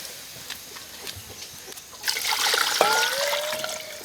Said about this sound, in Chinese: 牛骨头全下进去。 哇，满一锅，加水。